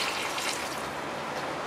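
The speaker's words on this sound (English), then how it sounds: "then we put a little bit of water" Water pours in a steady, continuous hiss and splash into a cooking pot of pinakbet, close and even throughout, with no voices.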